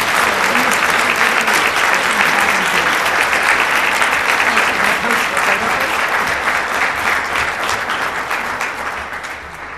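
An audience at a leadership awards ceremony claps loudly and steadily for award recipient Shirley Lou, a dense wash of applause that fades slightly toward the end.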